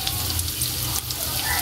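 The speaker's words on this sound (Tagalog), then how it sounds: "Ito na po, haluin na po natin at yung bawang." Chopped garlic and onion sizzling in hot oil in a pan while being stirred, a loud continuous frying hiss close by.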